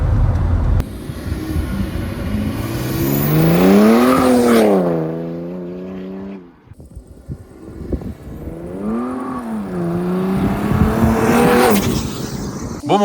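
A tuned twin-turbo car making 530 horsepower accelerates hard from close range. Its engine note climbs sharply through the revs, drops at a gear change, then surges up again to a high-pitched roar.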